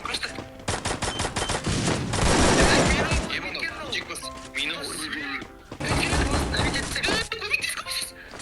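Rapid bursts of video game gunfire crackle in dense volleys, pausing briefly and then resuming, with excited players talking over the shots.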